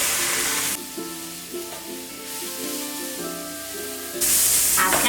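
A pan sizzles while being deglazed for a vegan Alfredo sauce, with a loud hissing burst at the start, softer steady frying in the middle and another loud hiss at the end, all over background music.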